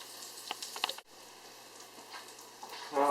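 Slices of giant puffball mushroom frying in a pan, a faint steady sizzle with a few soft pops and clicks, quiet and close with no talking.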